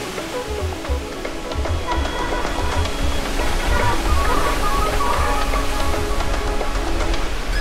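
A mountain waterfall in the Dolomites crashes down a cascade, a constant, full-bodied roar of falling water that stays loud and unbroken throughout.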